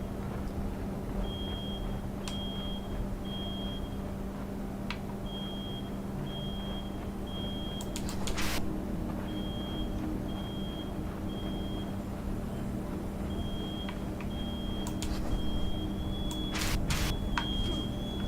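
Two smoke detector alarms beep in a video game, short high electronic tones repeating in evenly spaced runs over a steady low hum, with a few sharp clicks and thumps in between.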